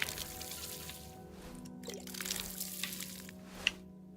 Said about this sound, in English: where's our frog watering can? Let's water everything.